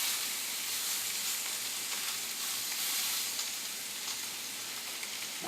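Fish fillets searing hard in a hot pan, a loud unbroken sizzle and crackle heard close up with no voices.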